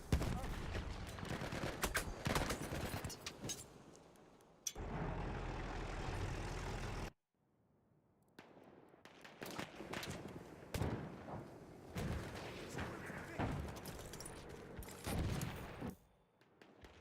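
Gunfire in a team-based shooter match, dense bursts of loud cracks and fusillades with vehicle engine rumble, broken by a brief steady roar and a short quiet gap before more shots resume.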